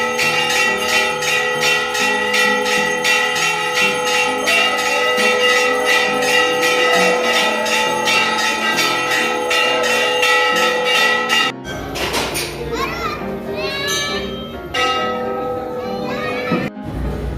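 Temple bells at a mother-goddess shrine clang on and on as they are rung with both hands. A dense, loud metallic jangle runs for about eleven seconds, then gives way to crowd noise and children's voices with scattered bell strikes.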